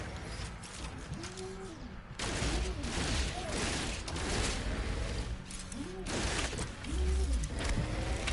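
Rapid bursts of gunfire in the space survival game No Man's Sky, loud repeated shots with whooshing weapon effects and mechanical clatter running continuously throughout.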